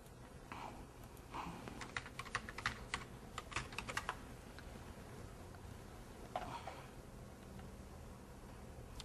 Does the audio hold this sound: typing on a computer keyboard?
yes